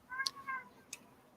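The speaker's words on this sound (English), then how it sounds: "I keep hearing Gray's fucking garage cat that's too much of a pussy to go inside" A garage cat meows twice, the first a short, drawn-out cry and the second a brief chirp. Both sound fairly close in an otherwise quiet space.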